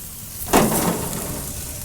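A thick tomahawk ribeye steak is flipped onto the hot grate of a Masterbuilt Gravity Series 1050 grill, setting off a sudden loud sizzling burst that settles into a steady close crackling hiss. No one talks.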